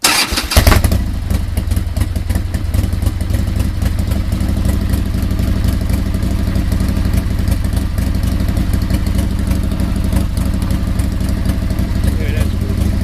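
A motorcycle engine starts up and settles into a loud, steady idle close by, its low rumble continuing without a break.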